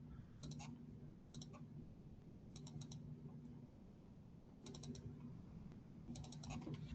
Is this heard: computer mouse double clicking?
yes